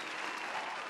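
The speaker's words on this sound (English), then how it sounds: "give yourselves a round of applause" Audience applause fills the room with a dense, steady clatter of clapping, loud and close, continuing unbroken without any voices rising above it.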